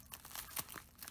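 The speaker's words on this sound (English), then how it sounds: "let's go ahead and cut this guy open" A cardboard package containing a custom crochet hook being cut open at close range, with soft crinkling, tearing and rustling of the packaging in short irregular bursts, quiet and without talk.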